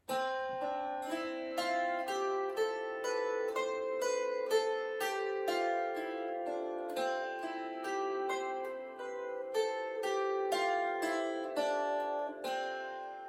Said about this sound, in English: let's hear what C major sounds like.